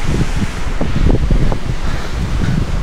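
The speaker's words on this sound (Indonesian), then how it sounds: "Angin kayak gini" Strong wind blows over a runner on a mountain trail during a 100 km endurance race in Japan, a loud continuous rushing gust with low rumbling buffets and no speech.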